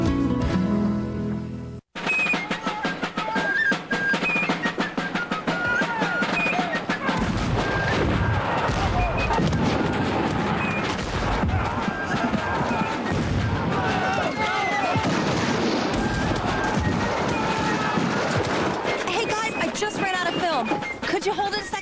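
A historical reenactment at Antietam National Battlefield brings sustained artillery and rifle fire, with heavy booms and rolling volleys that continue without pause after a brief silence near the start.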